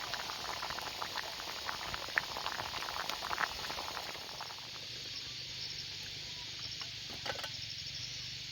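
A pot of water with two eggs boils at an outdoor campsite on a farm at night, giving a steady, close bubbling hiss with crackling pops that settles into a quieter simmer partway through.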